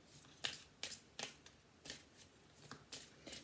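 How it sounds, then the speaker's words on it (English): Oracle cards being shuffled in a series of soft, papery riffles and flicks, each burst brief and close, repeating at an uneven pace with quiet gaps between. "let's pull you an oracle card"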